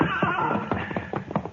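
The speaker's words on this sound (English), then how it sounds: "All right, you take the gray horse, Jane." A horse whinnies in an old-time Western radio drama, a loud, close neigh with a shaky, rising-and-falling series of cries that repeat over about a second and a half, with no talk over it.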